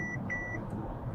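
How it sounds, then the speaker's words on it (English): Two short high warning beeps from a Mercedes EQS 580 SUV's lane change assist sound inside the quiet cabin over low road hum while the car drives slowly, with no talking. "The first time it beeped because there was somebody next to me and it canceled."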